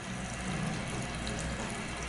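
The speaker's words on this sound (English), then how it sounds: "Sink has good water pressure." Running water from a bathroom sink tap in a vintage-fitted bathroom, a steady close broadband hiss of water pouring with good pressure into the basin, continuous with no talk.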